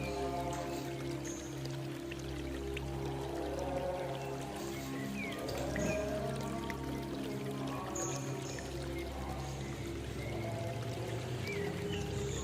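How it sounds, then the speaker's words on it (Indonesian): Steady pouring of measured boric acid nutrient powder into a prepared container for AB Mix hydroponic solution, a continuous soft trickling rush close by with low hum underneath. "kita tuangkan lagi ke dalam wadah yang disiapkan"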